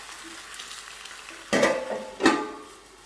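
Potatoes and cheese frying in a pan give a steady soft sizzle, with two louder bursts of crackling as they are stirred.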